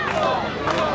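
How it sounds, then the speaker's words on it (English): Wrestling crowd in the Bronx chanting a wrestler's name, a dense, loud wall of massed voices swelling steadily through the second, with no single voice standing out. "this crowd is chanting Stone here in the Bronx"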